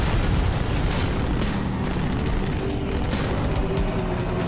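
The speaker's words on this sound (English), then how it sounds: "I do really like how the ghosts have this sort of overheat and like explode mechanic after it's been destroyed" Ghost vehicle in Halo 2 overheating and blowing up, a dense roaring rumble of explosive noise that stays loud and continuous throughout without pause.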